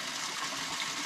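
Clear spring water rushes out of the ground on a mountainside, a steady close-up gushing hiss with no pauses and no voices.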